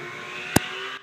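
A Holden Gemini wagon drag car at a Brisbane drag racing event gives a brief, sharp burst of engine noise over steady background hum, then cuts off.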